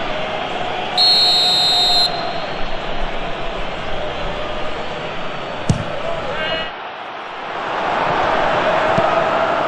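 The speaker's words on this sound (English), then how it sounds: "And the whistle goes for half-time." Referee's whistle blowing for half-time in eFootball PES 2021, a short bright tone rising out of steady stadium crowd noise beneath commentary.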